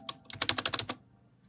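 Typing on a Snpurdiri 60% wired RGB gaming keyboard: a quick burst of about a dozen crisp key clacks, close and loud, then silence.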